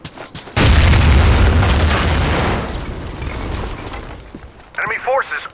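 A grenade detonates in Battlefield 2 on the Karkand map, one loud, heavy boom with a long rumbling decay fading over a few seconds, followed by clipped radio-style voice chatter.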